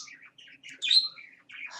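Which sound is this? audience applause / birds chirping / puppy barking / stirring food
birds chirping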